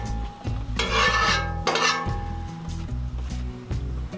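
Metal food-grade scraper scraping the round griddle top of a Cuisinart 360 Griddle Cooking Center, two loud rasping strokes with clanking between, close up and alone.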